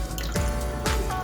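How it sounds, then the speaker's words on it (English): Water poured off soaked fish into a sink, heard as a few splashing, trickling bursts and drips against a steady background hum, close and fairly clear. "So now I'm pouring off the water."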